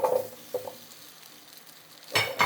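Potato pieces hit hot cooking oil in a pan, giving a brief stir and a low sizzle, then a sharper burst of frying noise near the end, close by.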